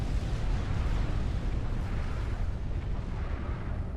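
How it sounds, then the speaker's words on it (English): A nuclear explosion in the strategy game Supreme Commander: Forged Alliance, heard as a loud, sustained low rumble and roar that fills the whole stretch without any break and without voices over it. "The nuclear explosion's gonna happen right now"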